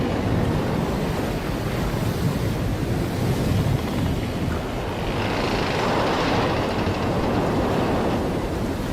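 Stormy sea with heavy surf crashing and strong wind roaring, a loud continuous wash of waves and gusts filling the scene throughout, with no voices.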